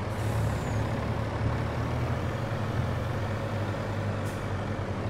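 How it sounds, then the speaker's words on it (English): A truck in a farming simulator game rumbles steadily with a low idling engine drone, and a brief hiss of air brakes rises near the end. "Whoa, truck."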